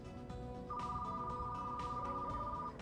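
A single electronic telephone tone rings steadily for about two seconds, a clear sustained beep over faint background noise, then cuts off.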